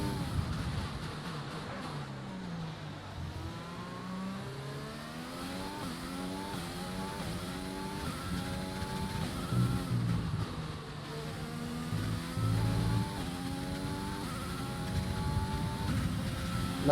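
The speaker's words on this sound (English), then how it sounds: "Crank the engine all the way up to 11." Race car engine in a racing video game, a steady buzzing whine that climbs in pitch again and again through repeated gear shifts, continuous and moderately loud with no talking.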